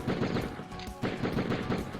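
Shotgun blasts in the Die Hard Trilogy video game, three loud booming shots spaced roughly half a second apart, each with a short crackling tail, no speech.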